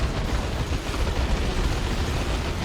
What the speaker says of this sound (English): those tank buster missiles chased it all the way back to base and took it out